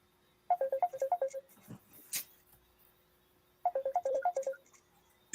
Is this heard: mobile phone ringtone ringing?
yes